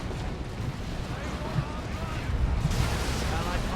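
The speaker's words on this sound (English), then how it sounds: "Too much grenade fire." Grenade blasts and gunfire in the Dawn of War 2 Elite Mod, a strategy-game battle between Imperial Guard and Chaos Space Marine forces, rumbling as a dense, continuous barrage.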